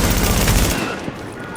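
A loud, close burst of rapid gunfire in the shooter game The Division that cuts off partway through and leaves quieter game ambience behind.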